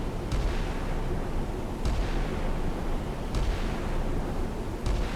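Naval guns boom repeatedly in a strategy game set during a 1990 Red Sea escort operation, with four heavy shots spaced about one and a half seconds apart over a constant dense rumble of battle.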